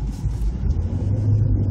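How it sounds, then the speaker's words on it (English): Manual-transmission car downshifting and slowing under engine braking, a low steady engine rumble from inside the cabin that shifts slightly in pitch as the gears take hold. "You'll hear the gears engage, and the car will just slow down under the power of its own engine."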